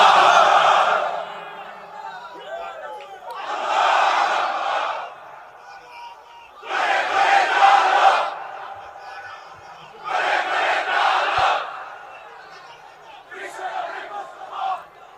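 Crowd at an Islamic religious sermon shouting the takbir, five loud unison bursts of massed voices separated by short pauses, with faint murmur between.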